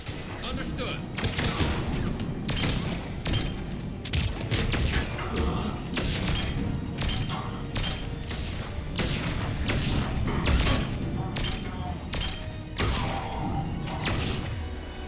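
Gunfire rings out in Mass Effect 3 during a firefight against a Cerberus squad, repeated sharp loud shots and booms in bursts over about fifteen seconds, with voices speaking at times among them.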